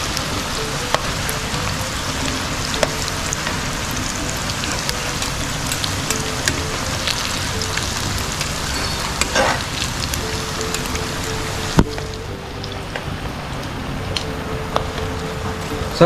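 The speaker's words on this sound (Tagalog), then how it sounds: "At hindi pa natatapos dito ang pagpiprito mga kasolid." Pork intestines, isaw and tumbong for crispy chicharon bituka, fry in hot oil with a loud, steady, crackling sizzle and scattered sharper pops throughout.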